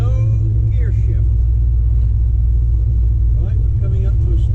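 A dual quad carbureted car engine pulling away gently in high gear, a steady loud low rumble heard from inside the car, with people talking over it.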